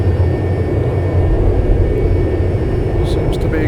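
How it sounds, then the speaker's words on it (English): Steady, loud jet roar from inside a Cessna Citation II on autopilot during a visual approach to runway 27, a continuous cabin drone with no let-up. "We're in the Citation 2, set on autopilot, coming in on a visual approach"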